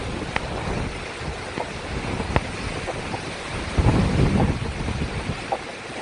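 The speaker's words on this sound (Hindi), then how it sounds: "रायगढ़ में के उड़न में तूफानी हवाएं इस समय" Cyclone storm winds roar across Raigad amid uprooted and fallen trees, a continuous rushing gust noise with rumbling swells and occasional sharp knocks, growing heavier toward the middle.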